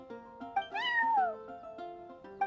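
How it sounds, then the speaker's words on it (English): A cat meows repeatedly in Genshin Impact: short meows, then one long rising-and-falling cry, then more short calls, close and clear with no talking. "I'm sorry, that's my neighbor's cat"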